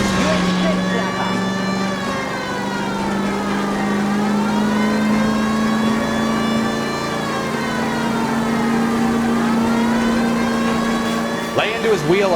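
A car engine revs hard during a chase in L.A. Noire, a loud, continuous drone whose pitch swells and dips as the car accelerates, with a brief voice cutting in just before the end.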